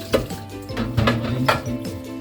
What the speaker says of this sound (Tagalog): Maghuhugas muna tayo ng ating plato.